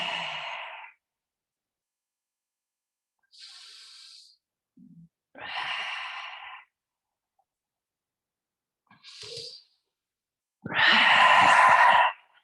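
Audible breathing during a vinyasa yoga flow, several separate breaths in and out, close and soft, with long silent gaps between them and a fuller, longer exhale near the end.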